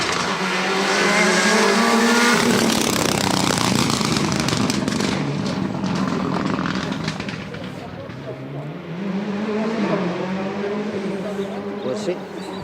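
A rally car tears past on a stage of the Rally A Coruña 2023, its engine loud and close, rising and falling as it passes, with a second surge of revving near the end and people talking over it.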